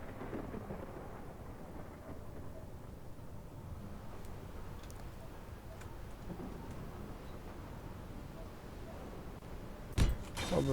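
A thunderstorm in Space Engineers: a low, continuous rumble under the game's ambient drone, ending in a sharp, sudden crack near the end.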